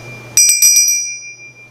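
A small bargain-bought bell rung alone, about five quick bright rings in a tight cluster, then a clear ringing tone that slowly fades to silence.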